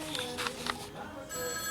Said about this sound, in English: phone just won't stop ringing.